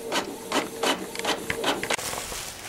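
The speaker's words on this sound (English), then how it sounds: "That's about how long it takes to print out one." An office printer running off paper flyers, several repeating mechanical passes with rhythmic feed and whir, close by and moderately loud, then a shift to steady hiss near the end.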